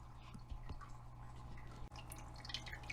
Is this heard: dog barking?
no